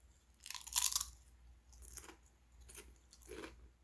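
Someone chews international-flavor Lay's potato chips close up, with several crisp crunching bites followed by softer chewing in a quiet room.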